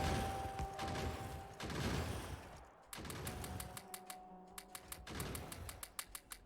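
Gun turrets in the game Factorio fire at biters, rapid bursts of sharp clicking shots, at first dense and overlapping, then steadier, more regular single shots over a rumbling mechanical bed.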